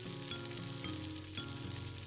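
Hazelnut pieces sizzle steadily as they toast in a hot frying pan, a continuous close frying crackle with faint stirring scrapes and no voices.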